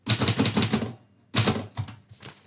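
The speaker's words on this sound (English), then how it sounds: "This typewriter is a 1934 Royal O." Keys of a 1934 Royal O manual typewriter clatter in fast, dense bursts, pausing briefly, then resuming with quicker clusters of crisp strikes, close and loud with no talking.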